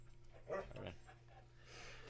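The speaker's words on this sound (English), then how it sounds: "Trying to keep the dog from running out of the house." A dog in a house gives a brief whimpering, yipping sound, faint and close, with a low steady hum underneath and no talking.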